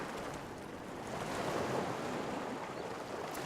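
Surf washes steadily onto a beach in Legend of Grimrock 2, a soft continuous wash that swells a little midway, with wind mixed in and no voices.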